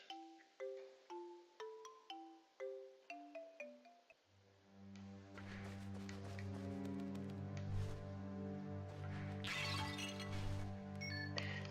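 Glass shatters in a video game while hunting for a gold berry, a bright crash with tinkling shards over a plucked melody, then a loud sustained musical fanfare takes over.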